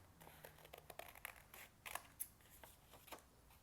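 Scissors cutting around a curved line in card while making a handmade teacup Mother's Day card, giving a series of short, faint snips and crinkles at a close distance with no talking.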